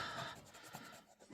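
Soft, faint rubbing of an eraser scrubbing pencil marks off a double-sided paper journal card, a continuous close scratchy hiss with small irregular strokes.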